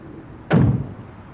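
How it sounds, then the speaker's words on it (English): A door in The Longest Journey video game is broken down with one sudden heavy thud and a short rumbling decay, close and loud against a quiet background. "If you don't open, we'll break down the door."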